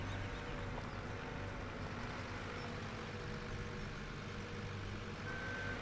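A Bobcat skid steer loader idles and works in Farming Simulator 17, a steady engine drone throughout with a faint, thin reversing tone appearing briefly near the end.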